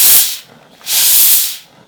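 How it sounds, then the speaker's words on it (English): A steam iron blasts two strong hissing bursts of steam onto fabric, the second longer, close and loud with a short quiet gap between them. "this iron is kind of known for its steaming ability. So I can kind of hold it and then steam it."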